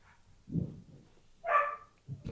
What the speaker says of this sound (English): Oh, my dog.